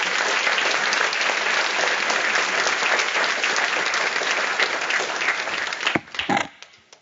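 Audience at an EMBA graduation recognition ceremony applauding to welcome speaker John Herbert, sustained loud clapping from a large crowd that tapers off with a few last claps near the end.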